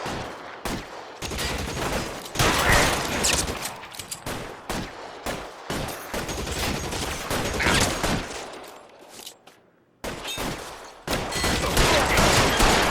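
Heavy gunfire in the video game L.A. Noire, a dense fusillade of rapid overlapping shots in bursts with brief gaps, loud and close throughout a shootout.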